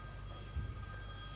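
A mobile phone rings among an audience at a helicopter collection, a thin electronic ringtone held at a low level over faint room rumble.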